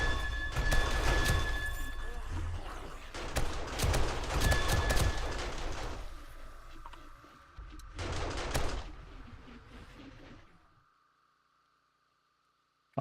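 Automated turrets firing in 7 Days to Die, dense loud bursts of rapid gunfire in several volleys that stop and leave quiet, with a steady electronic hum underneath.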